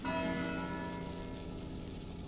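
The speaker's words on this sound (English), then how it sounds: "The hour bell sounded with a deep, dull, hollow 1." A church hour bell tolls once with a deep, dull, hollow strike whose ringing hum slowly fades, fairly faint and alone.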